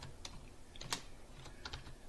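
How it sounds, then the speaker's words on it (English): Sparse, quiet keystrokes on a computer keyboard in a small room, a handful of light clicks scattered irregularly across about two seconds with no one speaking. "If I could learn how to type."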